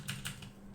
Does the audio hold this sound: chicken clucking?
no